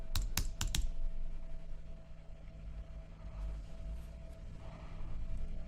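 Several quick keystrokes on a computer keyboard, a tight cluster of sharp clicks at the start, then a faint background hum with a few soft taps later.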